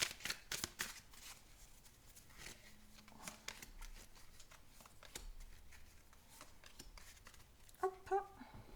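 Tarot cards are drawn and shuffled with quick, faint papery flicks and taps, clustered at the start and again near the end, close by with a quiet background.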